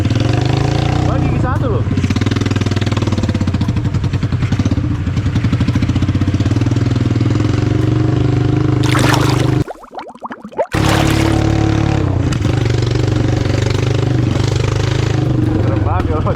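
An old, rebuilt motorcycle engine runs loud and close with an uneven, sputtering idle, and it briefly cuts out before catching again while people talk over it.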